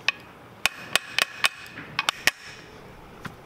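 Hammer blows on a Honda CB500X motorcycle triple tree clamped upside down in a vise: about ten sharp metallic strikes in uneven rhythm, some in quick pairs, close and ringing, with quieter taps trailing off.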